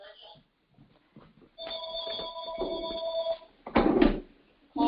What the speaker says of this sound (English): I don't know how to shut my phone off.